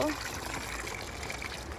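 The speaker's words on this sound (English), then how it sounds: "I'm just gonna kind of water things down" A steady stream of water trickles onto watermelon plants in a home garden, continuous and moderately close, with a voice talking over it.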